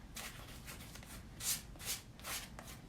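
A palette knife scrapes craft paint across a canvas background in a series of soft, close rasping strokes, several louder swipes standing out, with no talking.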